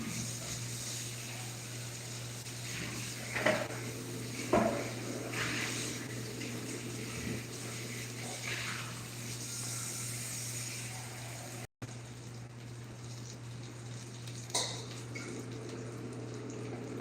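A small amount of water pours for couscous in a home kitchen, a soft trickle and splash under a steady background hum with a few clinks, quiet and close.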